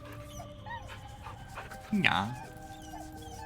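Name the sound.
dog whimpering when hit, from video game Baldur's Gate 3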